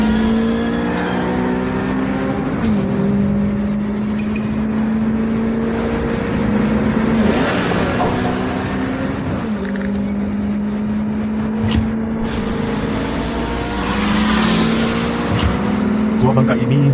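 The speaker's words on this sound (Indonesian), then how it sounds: "Mobil sport tanpa modifikasi kayak gini bisa dibawa secepat mobil balap." An unmodified sports car driven at racing speed, its engine revving up and down in repeated surges with gear changes, loud and close, with tire and road noise underneath.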